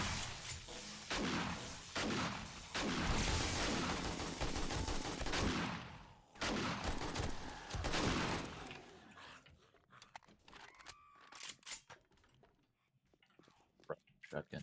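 Shotgun blasts in the zombie survival game 7 Days to Die, a rapid series of loud booming shots over several seconds, then quieter scattered clicks and sounds while someone talks.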